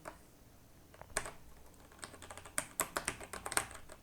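Someone types a line on a computer keyboard: sparse keystrokes at first, then a quicker run of close, crisp clicks in an irregular rhythm, with no talking.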